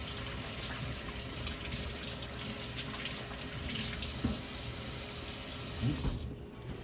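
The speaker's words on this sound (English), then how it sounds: "I'm gonna wash my hands so I don't want to get the seasoning on my hand" Steady water streams from a kitchen tap as hands are washed during cooking prep, a continuous broadband splash that swells slightly midway before cutting off near the end.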